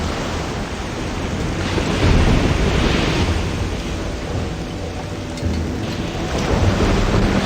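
Thunderstorm in the Risen 2: Dark Waters video game, with steady heavy rain and rolling waves filling the scene and low thunder rumbles swelling at intervals, loud and continuous with no voices.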